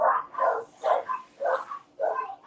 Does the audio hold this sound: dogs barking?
yes